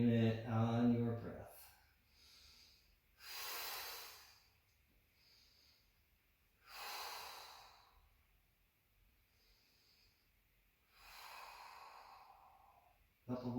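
Slow, deep breaths during a gentle yoga flow, several long airy exhales spaced a few seconds apart, close and soft in a quiet room.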